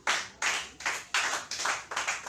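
A church congregation claps in rhythm to acclaim the Lord, six or seven loud, even bursts of hand claps close by, with no talking over them.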